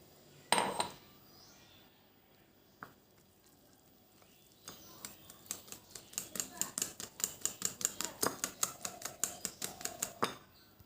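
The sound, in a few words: mixing Oreo cake batter in a bowl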